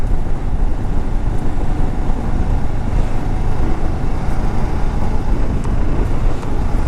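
A 2015 Kawasaki Ninja 650R on a test ride, its engine a steady droning rumble buried under heavy roaring wind buffeting, loud and continuous with no speech.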